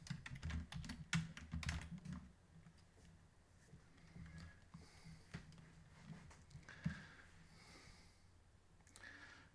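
Quiet, close clicking of a computer keyboard while code is typed, bursts of rapid keystrokes in uneven runs with short pauses and faint breathing between them.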